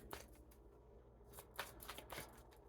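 Oracle cards being shuffled by hand, a soft run of riffling and sliding card sounds with a few sharper flicks, close and fairly quiet with no talk.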